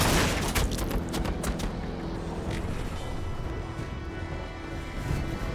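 Steady game gunfire from a Warhammer 40,000: Battlesector battle, a dense crackling fusillade with scattered booms. It is loudest and busiest in the first two seconds, then continues as a constant, slightly thinner barrage.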